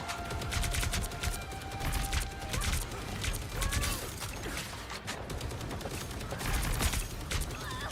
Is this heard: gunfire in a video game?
yes